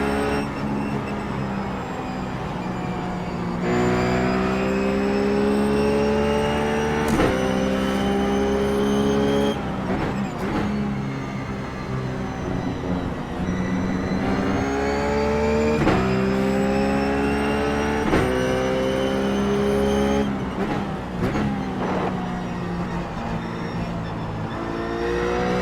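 Ruf GT3 race car in iRacing at Watkins Glen, its engine droning loud and steady near the listener with rising and falling harmonics through gear changes and corners, continuous for the whole stretch.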